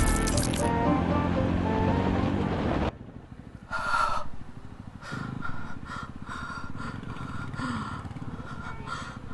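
Slurping and squishing sips drawn through a very short straw, several wet pulls with gurgling pauses, close by, following a burst of louder wind-like noise at the start.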